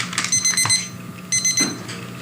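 An alarm goes off to remind an AIDS patient to take his AZT medication, a close electronic beeping in repeated bursts with short gaps between them.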